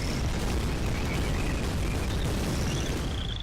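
Explosive rumble from a tank shell in Shell Shock Live, a dense sustained boom with crackling bursts over a continuous low roar, fairly loud throughout.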